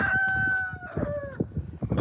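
A rooster crows once, a drawn-out tonal call fading after about a second, followed by soft scattered clucks and scratching nearby, fairly quiet with no voices.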